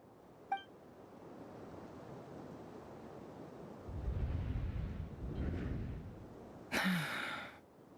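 A character in the video game Genshin Impact lets out one short, sharp gasp near the end, after several seconds of quiet, breathy background rumble.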